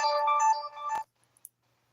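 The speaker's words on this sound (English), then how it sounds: "Sorry about the dinging. I forgot to turn my notifications off." A phone notification chime rings as a bright, tonal electronic melody for about a second, then cuts off, followed by a few faint ticks in near silence.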